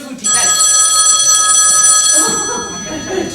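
A telephone rings with a steady electronic bell tone, loud and sustained for about two seconds before cutting off, followed by background room noise and faint movement.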